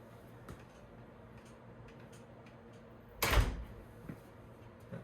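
A door swinging shut under an LCN door closer, a quiet room tone broken by one sharp thud as the door latches, then a faint click shortly after.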